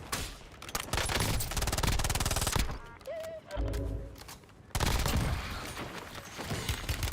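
Gunfire in the video game Warzone: loud bursts of rapid shots and a heavy fusillade at the start and again after a brief lull, with sharp cracks in between.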